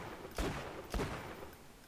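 Two sharp gunshots from a level 27 weapon in the video game Borderlands 2, about half a second apart, punchy and fairly close with short decaying tails.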